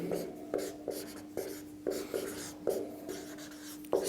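Chalk or marker scratches across a board in a physics class on Snell's law and refraction, in a steady rhythm of short strokes with brief pauses between, close and moderately loud.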